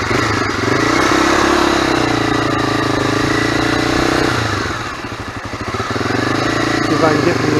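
A Kawasaki NX 250 motorcycle engine idles and putters while pulling in, loud and close and holding a steady drone, with a brief dip and a rattly stretch. Someone talks over it.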